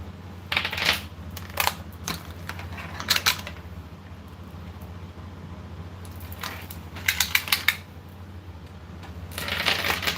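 A tape measure being pulled out and handled during a vintage glassware sale, with intermittent metallic clicks and rattling bursts, close and moderately loud over a steady low hum, with no voices.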